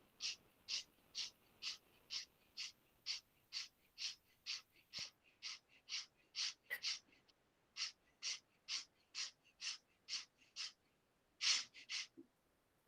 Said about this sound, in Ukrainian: Починайте стрімкі, швидкі, легкі видихи носом із грудної клітини.